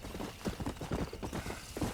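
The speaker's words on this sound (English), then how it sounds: "we're about to get on my horse and get out of here" A horse in the video game Red Dead Redemption, its hooves beating out a fast, rhythmic clip-clop at moderate volume with no voices over them.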